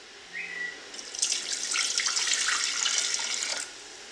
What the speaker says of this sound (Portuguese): dentro do copo, vou colocar 250 gramas de água